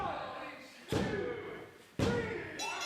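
During a wrestling match, a wrestler is slammed through a door, heard as two loud, sharp impacts about a second apart with a crowd roaring in the background.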